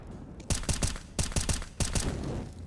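Auto sniper rifle fire in a Counter-Strike match on the Mirage map, a rapid run of sharp, loud shots in uneven clusters over steady background game noise.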